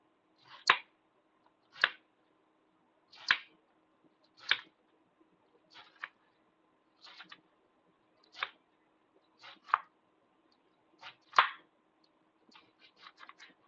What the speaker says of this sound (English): And then we'll start our other yellow squash. Cut off and then slice.